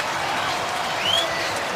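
Stadium crowd at an NFL game in New England, Texans at Patriots, reacting to a replay on the big screen: a dense, steady roar of cheering and applause filling the whole clip, swelling slightly near the end.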